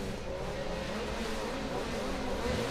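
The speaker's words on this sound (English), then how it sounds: "Right onto the limiter for these cars when the grip is high" Supercar Lites rallycross cars sit on the rev limiter at the start of a semi-final in Riga, a dense, buzzing engine drone with a pulsing, stuttering edge that holds loud and steady.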